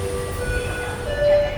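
A Ui-Sinseol line subway train in Seoul runs with a steady low rumble and faint high wheel or motor whine, close and continuous with no talk.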